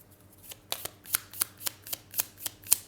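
Tarot cards are riffled and shuffled in a quick, regular series of about nine crisp, close snaps, with no talking over them.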